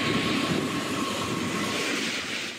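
Al Boraq, the Moroccan high-speed TGV built by Alstom, heard as a steady, loud broadband roar of rushing motion, continuous and unbroken throughout, with no voices present.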